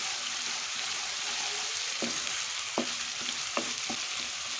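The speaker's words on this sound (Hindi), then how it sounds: "लहसुन अदरक और ये तमाम जो ये हमारे पास साबुत गरम मसाले थे ये फ्राई हो रहे हैं।" Garlic, ginger and whole garam masala fry in oil with a steady sizzle, punctuated by several distinct spoon clicks and stirring scrapes in the second half, close and alone.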